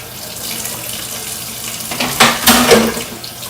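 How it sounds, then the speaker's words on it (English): Tap water runs steadily into a sink as broccoli is rinsed beneath it, a close hissing flow that swells and splashes louder near the end with no talking. "I rinse my broccoli before I put them in the pot"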